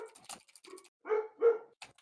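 Two short, fairly loud dog barks ring out in a slightly echoey room, with soft scattered noises and faint rustling before and after.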